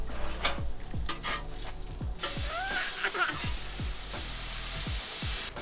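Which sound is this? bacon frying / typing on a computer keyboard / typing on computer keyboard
bacon frying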